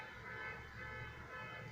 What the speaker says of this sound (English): There's your car honking for confirmation